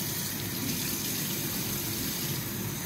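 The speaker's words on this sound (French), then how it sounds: "je vais mettre l'eau du robinet" Tap water pours steadily into a bowl of couscous dough, a continuous close gushing rush with no break.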